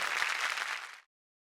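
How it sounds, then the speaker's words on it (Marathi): A studio audience on a Marathi television show bursts into strong applause, a dense wash of clapping that holds steady for about a second before cutting off abruptly. "चला व्हेरी गुड. जोरदार टाळ्या होऊन जाऊ देत."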